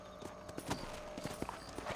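Horse hooves clip-clopping at a steady walking rhythm in Red Dead Redemption, soft and fairly close, with no talk over them.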